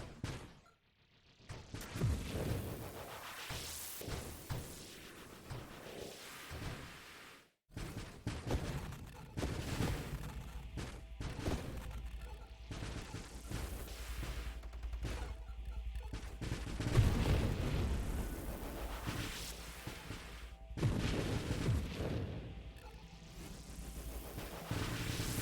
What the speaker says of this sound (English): It's a cool effect when the big missiles are making the smaller missiles on a big enemy like that.